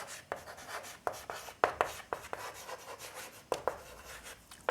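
A pen scratching and scribbling across paper as math equations are written out, with short strokes and taps in an irregular rhythm, close and fairly quiet, with no voices.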